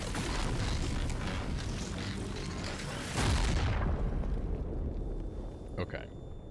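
A giant bomb blast in the video game Expedition 33, a loud, sustained roaring rumble with crackling debris that swells, then cuts away sharply into quiet game ambience with faint clicks.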